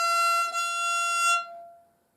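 A single sustained fiddle note, F natural bowed on the E string, rings bright and rich in overtones for about one and a half seconds, then fades away alone.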